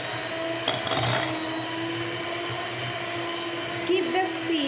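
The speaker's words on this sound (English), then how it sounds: "Now after adding 1 egg, I will beat it." Electric hand mixer running at a steady medium speed, beating an egg into plum cake batter of plain flour; a continuous close whir with brief scraping bursts, no talk.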